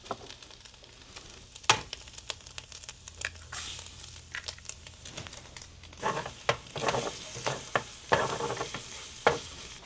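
Shelf-stable sausage frying in a pan: steady soft sizzling under irregular scraping and stirring clatters that grow denser and louder toward the end, close by, with no voices.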